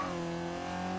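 Mazda Miata engine in Forza Horizon 2 while drifting, a steady, loud, sustained engine drone with tire noise, unbroken over about a second.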